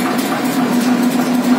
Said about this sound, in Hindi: ये देखिए बड़ी प्यारी आवाज है ट्रैक्टर की।